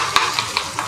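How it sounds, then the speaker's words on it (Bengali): Salted chicken stirred in a pan over high heat, a steady sizzle broken by four evenly spaced scraping strokes of the spoon, close and fairly loud, with no talking. "সো লবণটা দেওয়ার পরে দর্শক আমরা একটু নেড়ে দিচ্ছি"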